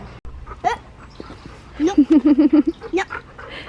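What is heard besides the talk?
excited pet dog panting and whimpering on a family walk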